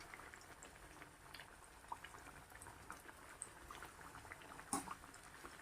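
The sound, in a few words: sweet potato chips frying in oil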